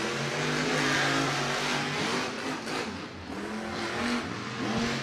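Avenger monster truck at Monster Jam in Orlando, its big engine revving hard at the starting line, a loud, throaty, fluctuating roar that rises and dips continuously with no voices over it.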